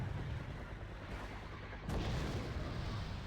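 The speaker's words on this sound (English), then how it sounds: "That's the missile." A TY90 missile in a video game roars as a dense, loud, low rumble, with a sharp burst of noise partway through before the heavy roar continues.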